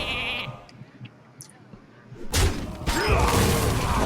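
Sheep bleating in the card game Hearthstone, a clear nasal bleat early on, then a loud smash and crashing impacts that fill the rest.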